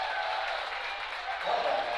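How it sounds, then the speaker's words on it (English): A college men's basketball crowd and the Franklin bench applaud and cheer after a blocked shot, a broad sustained roar of clapping and voices that swells near the end, with a commentator talking over it. "That one gets the Franklin bench up and cheering."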